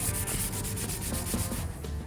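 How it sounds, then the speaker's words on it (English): Motorcycle paint being sanded down to an even haze, a steady, close rasp of repeated rubbing strokes with no talking. "This is what you need to sand this down."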